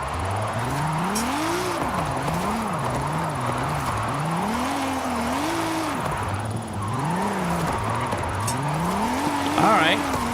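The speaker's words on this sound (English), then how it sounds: "It's just like immediately skidding. There's no grip on the tires whatsoever." Car tires squealing and skidding without grip in Forza Horizon 5, a wavering whine rising and falling over a steady engine roar through most of the stretch, with talk over it.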